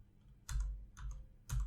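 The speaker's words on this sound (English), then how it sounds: "press B on the keyboard" Three soft key presses on a computer keyboard during 3D modeling work on a Mac, each a brief low thump with a faint click, evenly spaced about half a second apart and close to the microphone.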